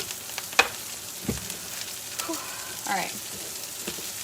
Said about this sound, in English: Watch me throw lettuce in my skillet.